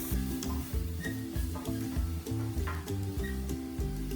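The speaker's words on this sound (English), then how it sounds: "we're going to let this cook until it's nice and tender and the onions are clear" Onions cooking in a roux in a pan, a soft sizzle under louder rhythmic musical tones, with no voices.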